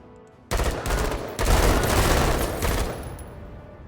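Dense automatic gunfire from various weapons as pirate scavengers are shot in the game MENACE, loud sustained bursts starting abruptly and swelling in a second wave before tapering off.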